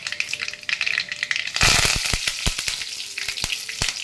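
Black mustard seeds, asafoetida and curry leaves hit hot oil, bursting into loud sizzling with sharp pops and crackles that then settle into an uneven, spitting fry.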